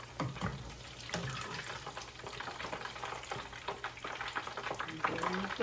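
Homemade salmon balls sizzle and crackle in a hot pan, a continuous busy frying hiss with scraping stirs and small pops, fairly close and without talk.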